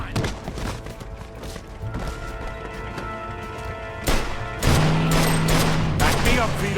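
Gunfire in the Mafia video game crackles in rapid bursts amid a shootout, with a heavier boom near the end, shots layered over music and ambient noise.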